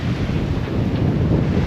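Open sea waves with strong wind, heard from a boat: a loud, constant roaring wash with heavy wind buffeting across the microphone, close and enveloping.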